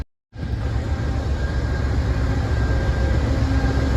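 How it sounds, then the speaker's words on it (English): An Amtrak locomotive approaching at a North Carolina station produces a heavy, steady low rumble that rises in and holds loud and close, with no talking over it. "our locomotive approaches"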